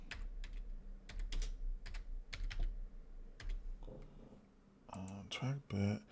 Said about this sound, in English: Let me see, and I'll type in